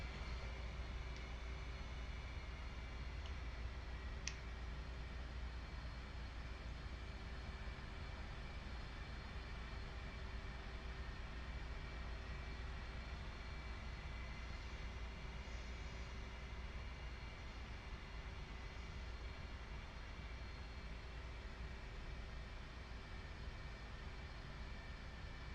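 A military jet taxis in a flight simulator, giving a steady low engine rumble and whine that stays constant and unbroken for the whole stretch, fairly quiet.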